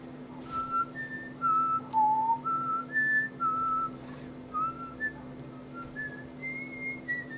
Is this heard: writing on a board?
no